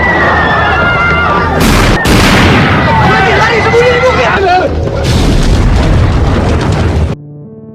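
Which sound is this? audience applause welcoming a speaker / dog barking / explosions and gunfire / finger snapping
explosions and gunfire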